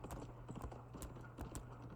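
A horse in The Escapists 2 video game clip-clops along with quick, rhythmic hoof taps repeating steadily, soft and distant-sounding, and nobody talks.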